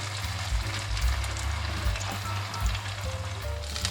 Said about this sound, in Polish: Zaczynam smażyć placki.